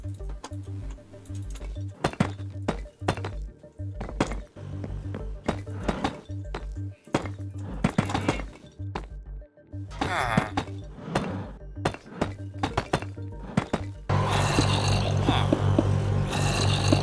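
Blocks being broken in Minecraft, a rapid run of hollow thunks and clicks repeating in quick bursts with short pauses, over a steady background music bed that swells louder near the end.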